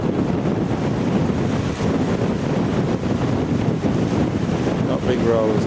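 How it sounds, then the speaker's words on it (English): Wind blows steadily on the Shipwreck Coast beach near Nelson, a broad continuous roar with small surf behind it, close and loud throughout. "The wind's blowing from behind me"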